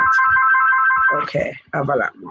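A phone ringtone trills steadily and loudly in a room, then a person starts talking over the tail of the ring.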